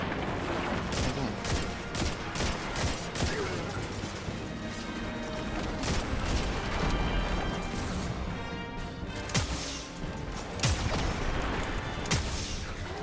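Gunfire in the video game Destiny 2 comes as dense, loud, rapid bursts of shots with crashing impacts, almost continuous for over ten seconds.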